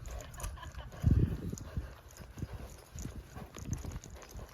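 A saddled horse shifts and steps on the ground, irregular hoof thuds and clip-clops close by, a heavier cluster of stamps early on, then scattered lighter steps, faint voices in the background.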